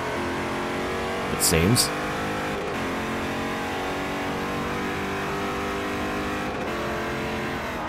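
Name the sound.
LMP2 race car engine revving in Forza Motorsport 4 video game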